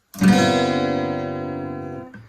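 A guitar chord is strummed once with the B and high E strings ringing open and fingers near the low frets, sustaining loudly and cleanly before fading and being cut off.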